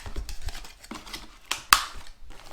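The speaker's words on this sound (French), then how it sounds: "Donc, petit déballage" Cardboard packaging of a Jetboil ZIP stove being opened, soft rustles and scrapes followed by one sharp snap or tear, close and quiet.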